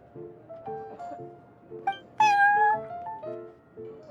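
A cat in Genius Invokation TCG meows repeatedly in a soft rhythmic pattern, then lets out one louder, drawn-out meow near the middle before the gentle meows resume.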